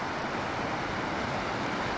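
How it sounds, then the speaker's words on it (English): Ocean surf and wind at the seashore give a steady, loud, broadband roar of waves and gusting air on the microphone, with no talk. "I'm down here by the ocean, as you can see, because you guys like these ocean videos"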